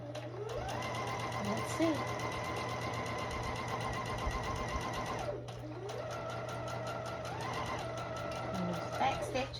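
Small sewing machine, compared with a Bernina, stitching a woven muslin test piece in steady bursts of fast motor whir with a brief pause midway, and a voice speaking briefly.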